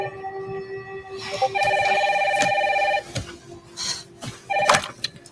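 A household telephone rings in a warm ringing burst on a rainy night, with shorter rings before and after it, fairly close and fairly loud in a quiet room.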